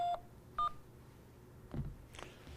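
A telephone keypad gives a few short, separate key-press tones, each a brief clear beep spaced under a second apart over a faint line hum.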